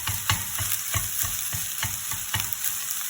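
Fried rice with egg, onion and white rice is stirred in a sizzling pan, regular scraping strokes of the utensil against the pan over a constant frying hiss.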